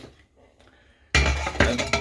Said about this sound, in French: on a une magnifique épaule de veau que l'on met dans la cocotte minute